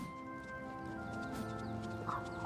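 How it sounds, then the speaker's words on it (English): A horse in the video game Oblivion Remastered is heard in steady clip-clopping hoof steps over a low ambient drone, close and moderately loud, with a brief snort or whinny near the end. "Oh, you were getting a horse."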